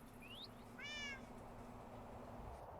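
A cat meows in a Minecraft hardcore world, two short clear mews, the second with a rising harmonic cry, over a quiet ambient background.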